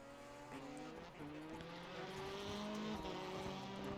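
Rallycross race cars lap the circuit at Daytona, engines droning at a distance with rising and falling pitch as they pass, a steady roar with faint tire noise and no one talking.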